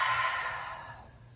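A long breath exhaled through the mouth during a gentle yoga session, soft and close, fading out over about a second.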